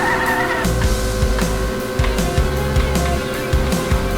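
Car tyres squeal repeatedly while drifting in the video game Drift Stage, over a steady engine drone, with rising and falling screeches in quick succession and no talk.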